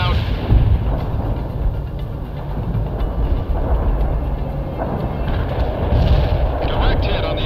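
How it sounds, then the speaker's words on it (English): Tank main guns fire shells in the war strategy game World in Conflict amid steady heavy battle noise, a loud, booming, rumbling wash with repeated thuds and voices faintly present. "Main guns primed and shells are moving out."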